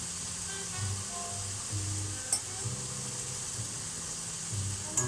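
Butter sizzles steadily in a hot pan while food is stirred, giving a constant soft frying hiss with periodic scraping strokes and a couple of brief clinks.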